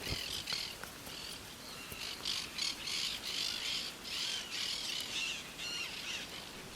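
Macaws call in the Pantanal with repeated harsh squawks, fairly loud and close, rising over a steady hiss of insects and other birds.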